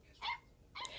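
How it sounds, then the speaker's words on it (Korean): A robot puppy gives two quick, faint yapping barks separated by a short pause, heard alone against a quiet background. "갑자기 땡그리가 멍멍멍 마구 짖는 소리가 들렸어요"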